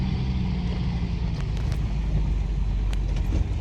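An old four-wheel-drive Dodge truck drives along with a steady, loud low engine and road rumble heard from inside the cab, and a few faint knocks over it.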